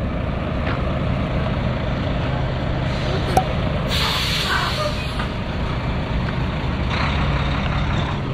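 A heavy truck maneuvering in reverse at a driver training yard, its engine rumbling steadily throughout with a brief sharp hiss of air brakes, the low drone continuous and fairly loud outdoors.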